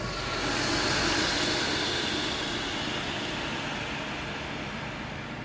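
A Ninja Foodi grill air frying gives a constant, rushing fan roar close by, swelling slightly early on and then easing gradually.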